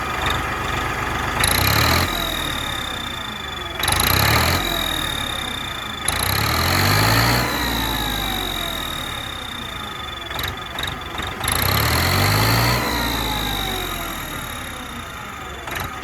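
A Farmtrac 45 tractor engine fitted with a cheap turbo whistle mod, revved in four loud bursts that each rise to a sharp, sustained whistle over the diesel rumble, then sag back toward idle between pulls.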